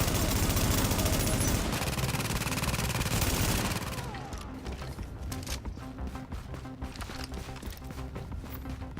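Video game turret in a PvP survival match firing bullets in dense, rapid bursts, loud and continuous at first, then thinning into scattered sharp shots over a busy, noisy mix.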